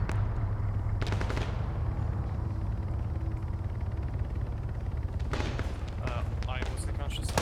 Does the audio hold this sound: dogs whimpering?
no